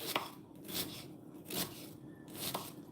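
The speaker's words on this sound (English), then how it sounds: "But it is important that you cut the onions up, I reckon" A knife chops through an onion on a cutting board, giving a handful of crisp, spaced strokes at an uneven rhythm, close and moderately loud.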